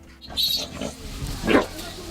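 Pigs raised by Muyu people for a pig feast grunt and squeal in short, uneven bursts, close by, with a louder grunt near the end over faint background noise.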